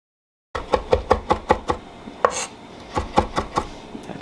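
Ginger is minced with a knife on a cutting board in a quick run of crisp, evenly spaced chops, close and loud, with a brief pause midway and no voices.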